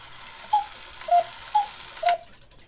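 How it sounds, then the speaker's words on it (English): A wooden-plated cuckoo clock ticking, four evenly spaced, distinct tocks close up in a quiet room. "one is this wooden plated cuckoo clock"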